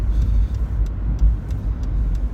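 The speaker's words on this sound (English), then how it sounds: "Every time I hit a pothole, it echoes inside of this car." Steady low rumble of a car driving on a rough road, with several dull thumps from potholes echoing through the cabin at irregular intervals.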